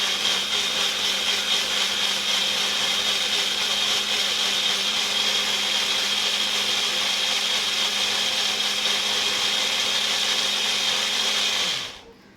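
A Cookwell bullet mixer grinder, a compact blender, runs at a steady high-pitched whine, loud and close, for about twelve seconds and then cuts off abruptly.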